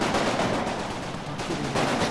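Small arms fire in the Combat Mission war game, a dense, continuous burst of rapid gunfire filling the whole moment at steady loudness with no pauses.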